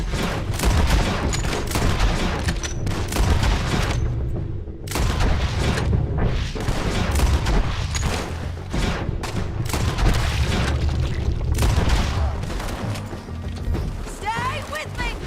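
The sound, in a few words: gunfire in the video game Red Dead Redemption 2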